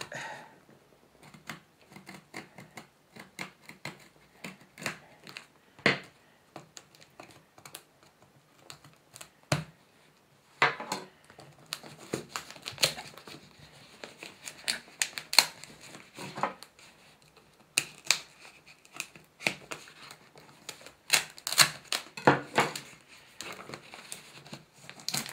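Heavy packaging is torn and unwrapped close up, with irregular bursts of crinkling, crunching and scraping between short quiet pauses, and no voices.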